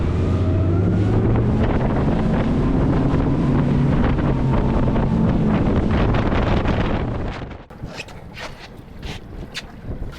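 A fishing boat pulls away under power, its engine a loud steady drone with heavy wind buffeting the microphone for most of the run before the roar drops off sharply near the end, leaving quieter rumble and water noise.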